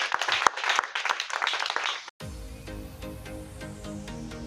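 A church congregation cheers and claps for the Lord, a burst of dense crowd applause that cuts off abruptly and gives way to music.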